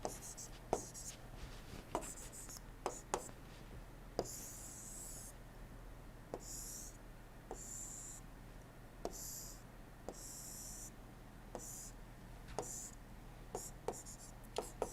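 Chalk drawing a TS diagram on a lecture board: repeated sharp taps and scratchy strokes with brief squeaks, close and fairly quiet over a steady low hum.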